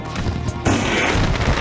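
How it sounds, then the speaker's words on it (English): Fireworks go off at Eldora Speedway in an iRacing dirt street stock race, a loud rumbling crackle that suddenly swells into a dense, continuous burst of booms. "Fireworks under display at Eldora Speedway."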